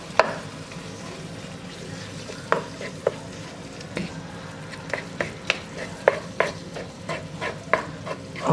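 Ground beef sizzles and browns in a pan with a steady frying hiss, broken by frequent sharp scrapes and clacks of a spoon stirring the meat, growing busier toward the end.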